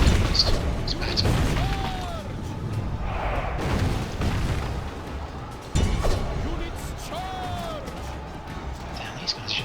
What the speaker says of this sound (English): Damn, these guys are just firing into the back of us all the time.